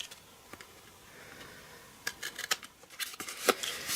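Scissors snipping a small rectangle from a paper tab on a tea light gift box, a quiet run of short crisp cuts that grows busier and closer toward the end.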